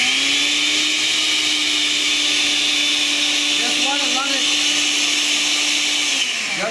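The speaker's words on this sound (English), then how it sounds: "Now, you don't have to use a blender. I'm going to for display purposes" A blender runs steadily for about six seconds, dissolving a mix of ingredients, with a constant loud whirring motor hum that winds down at the end.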